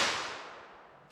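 A single sharp report from a .32 H&R Magnum handgun loaded with Federal Hydra-Shok Deep rounds, heard at a modest level as a quick crack whose broad hiss tails off over about a second, with no voices.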